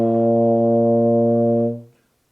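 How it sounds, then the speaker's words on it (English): A euphonium holds a low B flat as one steady, rich brass tone in a beginner warm-up. The note lasts under two seconds, then cuts off and fades into silence. "make sure you've got your eupho. We're going to start with B flat."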